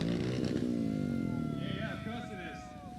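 Royal Enfield motorcycles idling and revving as they line up at a race start, a steady engine rumble with rising revs, under someone talking close by.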